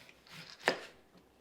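A kitchen knife cuts down through a stacked pile of sliced salad vegetable rings to halve them. It makes a single crisp, sharp chop against the board, close by, among faint handling rustle.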